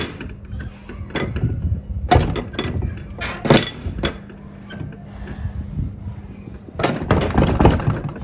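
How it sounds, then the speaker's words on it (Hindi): Someone knocks on a gate in uneven clusters of sharp, rattling raps at close range, with quiet gaps between the bursts. "बस उसके बाद खटखटाया मैंने गेट कि भाई खोलो"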